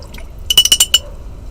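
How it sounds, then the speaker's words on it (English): A rubber tool dipped and swished in a water jug while making a card: a short burst of five or six close, bright splashing clinks lasting about half a second, then quiet, no voices. "I'm going to dip this in my water jug"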